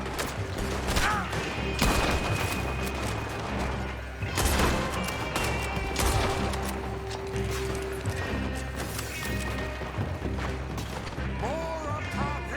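Gunfire crackles through a chaotic shootout in Red Dead Redemption 2, with repeated rifle and pistol shots, thuds and crashes layered densely over shouting and background commotion.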